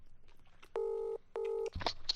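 A telephone keypad dials a friend's number, giving two long, clear touch-tone beeps separated by a short gap, followed by a brief click and faint rustle.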